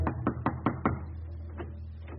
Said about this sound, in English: He knocks on the front door.